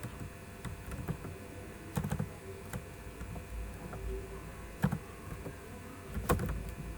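Typing on a computer keyboard while entering a note in Google Keep: irregular soft keystrokes with a few sharper taps, close and quiet, no talking.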